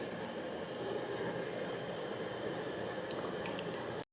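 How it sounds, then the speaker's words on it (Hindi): Eggplant slices sizzle steadily in hot cooking oil in a kadai, a continuous broadband frying hiss with faint crackles, fairly loud and unbroken, with no talking. "इनको फ्राई करेंगे।"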